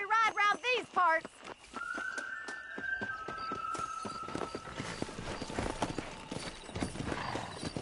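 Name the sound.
horse riding in video game Red Dead Redemption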